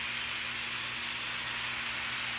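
Hamburger, onions and green pepper sizzling in a pan: a steady, loud, bright hiss of frying that holds unbroken throughout, with a low hum underneath.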